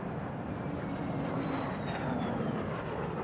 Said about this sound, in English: the early jet scene is represented by a Vampire and the L-29 Delphin